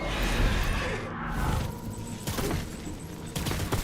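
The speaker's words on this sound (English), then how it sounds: "Enemy fire!" Enemy gunfire in the video game Death Stranding, a dense burst of rattling shots and impacts, loud and close, with sharp cracks continuing through the scene and no talk.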